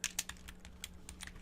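Keys clatter in a quick, uneven run of sharp clicks on a computer keyboard, close up and moderately quiet over a steady low electrical hum, with no talking.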